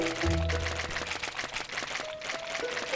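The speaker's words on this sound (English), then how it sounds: "Let's water it up a few times." A short watering splash from a sugar apple tree being watered in Roblox Grow a Garden, a soft pouring burst near the start over steady game music, with no one talking.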